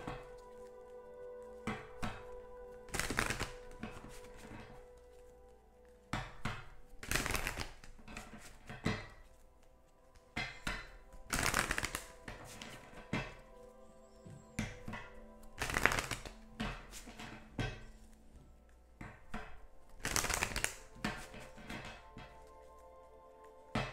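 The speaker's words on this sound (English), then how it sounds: "pull a card from the Romance Angels Oracle deck" An oracle card deck being shuffled and handled, with sharp riffling bursts recurring every few seconds over a quiet hum. The sounds are close and play without talk.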